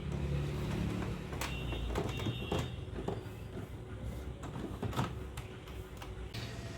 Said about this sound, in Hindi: प्रिंटर थोड़ा सा प्रोसेस होगा